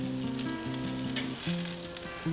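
Chicken wings sizzle on a charcoal grill, a constant close crackling hiss under background music.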